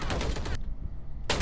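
Rapid automatic gunfire in the tactical shooter Valorant comes in dense, loud bursts, one at the start and another at the end, separated by a short gap.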